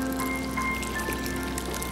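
Steady, even splash of clean water being poured onto the soil around a fruit plant, continuous and close with no break.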